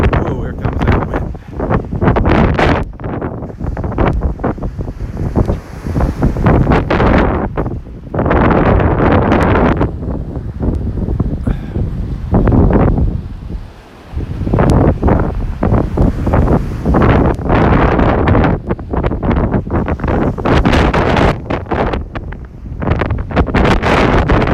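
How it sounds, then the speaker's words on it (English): Strong wind gusts buffet the microphone on the beach in North Naples, Florida, with surf rolling in underneath, loud and continuous for the whole stretch, dipping only briefly before roaring back. "here comes that wind"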